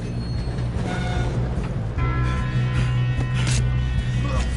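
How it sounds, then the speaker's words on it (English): Game train from a PS4 title rumbling steadily along the rails, with a low continuous drone, clanks and a brief high wheel squeal, loud and close throughout with some background game noise. "Come on, we need to stop this train."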